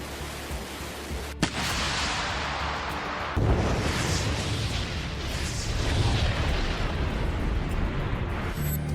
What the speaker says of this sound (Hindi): पुतिन की आर्मी के वोस्तोक ग्रुप के तोपखाने ने ज़ेपोरिज़िया में यूक्रेनी सेना के AFU के ठिकानों को तबाह कर दिया।